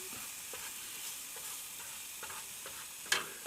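Eggs with milk and black pepper are folded and stirred in a frying pan, a soft continuous sizzle broken by light scrapes and a few faint taps of the utensil against the pan.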